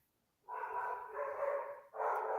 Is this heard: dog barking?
yes